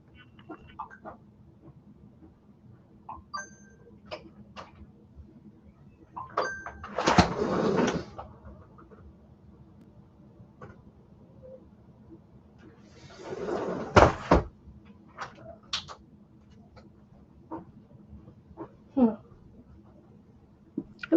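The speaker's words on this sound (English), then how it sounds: "I'm just gonna open the door and see what's outside." A door is opened at home with two loud clattering, rattling bursts several seconds apart, scattered small clicks and knocks around them, in an otherwise quiet room.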